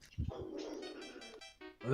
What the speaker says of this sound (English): Shut up, dog.